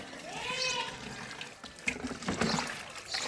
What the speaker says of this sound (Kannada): ಸ್ನಾನ ಮಾಡ್ತವ್ರೆ.